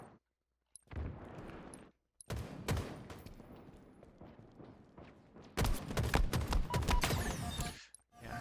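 Bursts of gunfire from the video game Halo Infinite during an Oddball match on the Streets map, coming as rapid volleys with short silent gaps, the densest and loudest shooting near the end.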